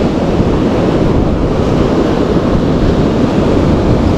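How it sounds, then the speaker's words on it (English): Ocean waves surging and washing in steadily at a fishing spot, a continuous loud broadband roar with wind buffeting the microphone and no voices. "No, just the waves, I think."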